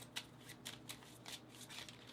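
Ambassador cards for the Brink board game being shuffled by hand, a series of soft riffling bursts at a steady pace, close and quiet with no talking.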